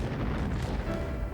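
Cannon fire booms in a dense, rolling rumble of distant blasts during wartime in France, a muffled, continuous barrage heard briefly.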